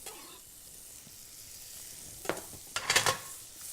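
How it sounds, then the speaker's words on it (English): Garlic and chilli sizzle softly in melted butter in a pan, a low steady crackle with a few louder bursts of frying and stirring near the end. "We're going to add some butter into the pan, okay? In goes the garlic and chilli."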